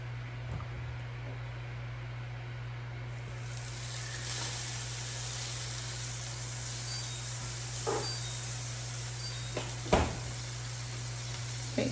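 Butter and olive oil sizzling in a hot cast iron pan during a tofu kung pao stir fry, a steady broad hiss throughout with a few brief spits and clicks near the end.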